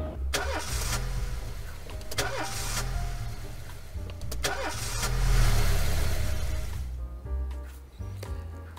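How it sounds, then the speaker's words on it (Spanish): An engine cranks and catches in the video game This Is The Police, with repeated starter bursts over a steady low rumble that swells briefly mid-clip before settling, close and fairly loud, with no talk. "Lo que no llegamos a hacer fue arrancar el coche."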